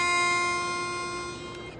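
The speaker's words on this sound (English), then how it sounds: "they're going to try to match the F note, which sounds like this" A single sustained F note sounds as a pitch reference for a voice exercise, steady and even, slowly fading over under two seconds.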